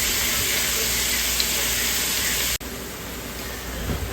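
Onions sizzling in butter in a frying pan while making Newfoundland dressing with savory for turkey, a steady loud hiss throughout, briefly interrupted by a cut midway.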